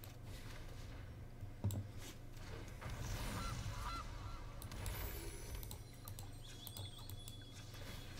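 A goose honk from a Magic: The Gathering card in a digital card game, a short honk over soft game background sound.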